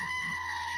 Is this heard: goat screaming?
yes